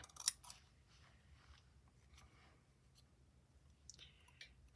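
Scissors snip through fabric for a village life stitchery bag, a quick burst of sharp close cuts at the start, then faint scattered snips over a low background hum.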